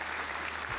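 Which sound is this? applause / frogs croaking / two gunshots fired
applause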